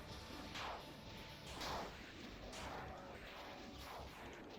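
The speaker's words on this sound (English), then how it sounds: "Melee range BFG shots do a lot of damage" BFG shots fired at melee range in the Touhou Doom game: several heavy booming blasts at about one-second intervals, loud and close over a steady din.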